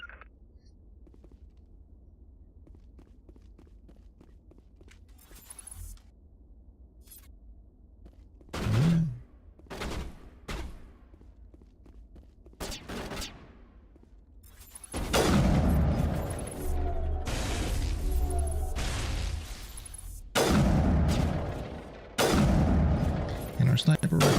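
Sniper rifle shots in the Mass Effect video game ring out as scattered sharp cracks, several sudden loud bursts with rumbling tails mixed with game noise, with talking around them.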